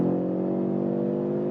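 Audi RS3 five-cylinder engine accelerating hard in performance mode with Sport ESC, a steady, loud, droning growl with strong harmonic tone held throughout, no talking.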